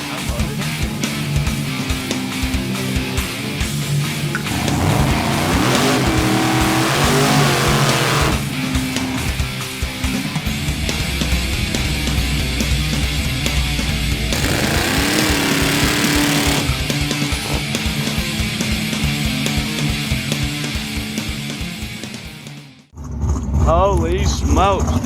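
A Procharged supercharged Chevrolet C10 truck engine revs loudly and continuously nearby, its roar rising and falling, with people talking over it, before cutting out abruptly near the end and then resuming.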